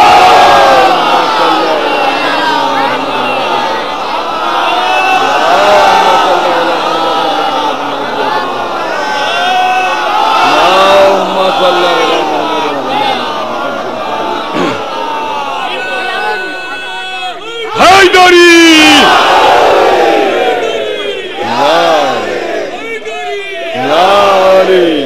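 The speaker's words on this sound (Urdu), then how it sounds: "شہزادی سلام اللہ علیہ کے استقبال کے لیے 3 مرتبہ بلند آواز سے صلوات پڑھیں۔" Large mosque congregation at a Karbala martyrs' commemoration majlis chanting salawat aloud in unison, a loud sustained crowd roar in repeated swelling waves, the last burst starting abruptly and strongest near the end.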